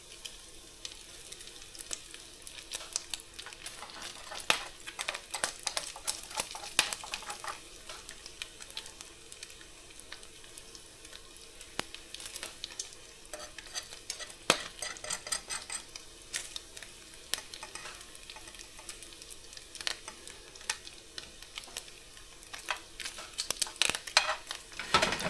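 Bacon sizzles and crackles in a frying pan over a low heat, a steady close hiss dotted with sharp pops and spits, with an occasional faint clink of a utensil and no voices.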